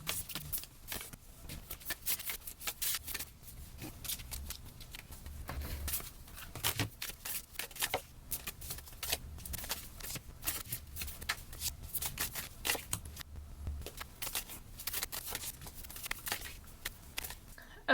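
Oracle cards shuffled and laid out on a table in a steady run of papery riffles, flicks and soft slaps, close and moderately loud throughout, with no talking.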